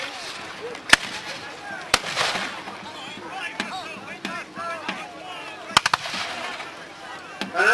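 Musket volleys at a Napoleonic battle reenactment crack out as sharp, separate reports, some single and some in quick clusters, heard at mid distance under steady commentary from a voice.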